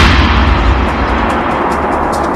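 Loud, dense rumbling roar from a bomb blast inside a bus, captured on CCTV, filling the whole stretch as a continuous broadband wash of heavy low-end energy with no separate bangs.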